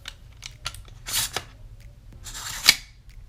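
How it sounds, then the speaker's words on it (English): Small sharp mechanical clicks from an AR-15 pistol as its trigger is pulled and reset during a dry function check, several crisp snaps at close range with no talking. "you're gonna pull the trigger, you're gonna hear the click, you're gonna do a function check"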